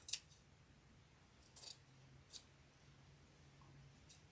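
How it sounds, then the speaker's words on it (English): Scissors snip through fabric for a homemade Christmas tree ornament, a few short, crisp cuts spaced apart, close and quiet against a low steady hum. "now I'm cutting this"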